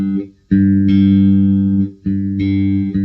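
The open G string of a bass guitar plucked while tuning, two sustained low notes ringing out one after the other, clear and close with no voices.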